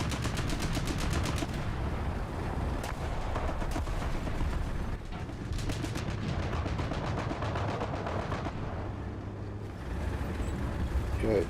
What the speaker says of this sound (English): dude is definitely firing shots in there